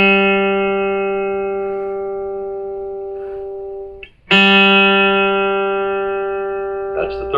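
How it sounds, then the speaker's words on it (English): The G string, the third string of a guitar, is plucked and left ringing, then plucked again about four seconds later after a short dip, each note sustaining and slowly fading, with a faint touch of handling noise near the end. "Begin to tune up the 3rd string till it sounds like this."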